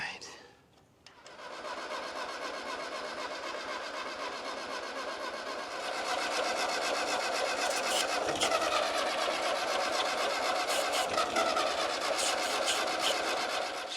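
A 1940s Ford 8N tractor engine cranks over and sputters steadily, growing louder partway through and running on without pause, with people talking nearby.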